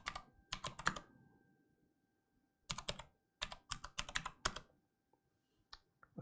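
Bursts of fast clicking keystrokes on a ROYALKLUDGE typewriter-style mechanical gaming keyboard while typing a search, in quick clusters separated by short pauses, close and clear with no talking.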